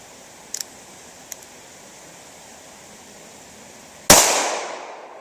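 A single sharp, loud pistol shot from a Ruger LCP II loaded with Federal RTP rounds, fired outdoors against steady background hiss, with a few faint clicks beforehand and a short decaying tail after the report.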